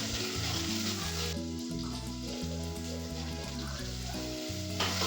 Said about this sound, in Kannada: ಎಣ್ಣೆ, ಜೀರಿಗೆ, ಸಾಸಿವೆ, ಬೆಳ್ಳುಳ್ಳಿ, ಕರಿಬೇವು, ಈರುಳ್ಳಿ, ಟೊಮೊಟೊ ಹಾಕ್ಕೊಂಡು ಒಗ್ಗರಣೆ ಹಾಕೊಳ್ತಾ ಇದ್ದೀನಿ.